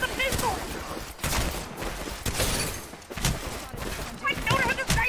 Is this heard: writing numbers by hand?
no